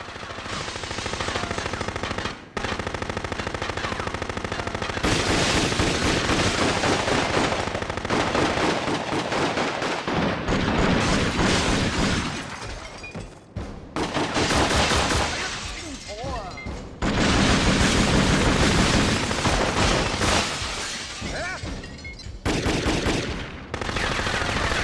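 Two guns blaze in the action game Jet Li: Rise to Honor, dense rapid gunfire rattling almost nonstop with brief breaks, loud and close against a busy game soundtrack.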